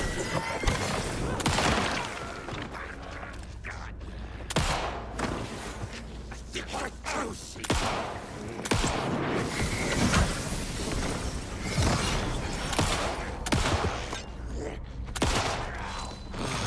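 Gunfire in Alan Wake 2, a dark horror game, comes as repeated sharp loud bursts in an irregular rhythm over a dense, noisy game soundscape, with mechanical creaks and crashes mixed in.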